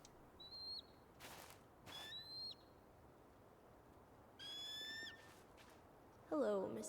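An eagle in the game Tell Me Why gives a few clear, thin descending whistled cries, spaced apart over faint quiet ambience, with a short, louder bird squawk at the end.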